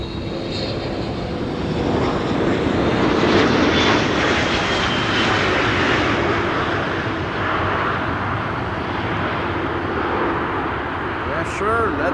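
Airliner landing at Amsterdam Schiphol Airport, a broad, steady engine roar swelling slightly and holding for about twelve seconds, fairly close and loud, with faint voices underneath.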